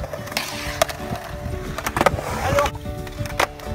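A skateboard riding up a skatepark ramp onto the coping: continuous rolling wheel rumble with several sharp wooden clacks and knocks, close and fairly loud, and a faint voice now and then.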